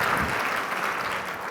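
Applause from a conference audience at an early childhood celebration event, a dense steady clapping with faint cheering that fills the hall and holds evenly from start to finish.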